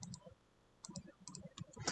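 A computer mouse clicked several times during Alt-click zooming in design software: a handful of crisp, close double clicks with short quiet gaps between them.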